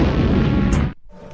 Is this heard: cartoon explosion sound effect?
yes